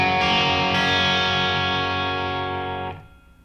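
Electric guitar in open G tuning, a Les Paul with the high E string dropped to D, rings out as one sustained distorted strum, bright and full with effects, decaying and fading after about three seconds with no talk.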